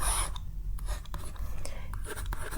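Pen or pencil scratching across paper in short strokes and scrapes, close and fairly quiet, with pauses between strokes and no talking.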